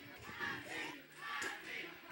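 A wrestling crowd at a Best 2 of 3 Falls tag match roars and chants in rolling waves, loud and sustained, rallying behind the Posse team of Simon Reed and lil' Chris.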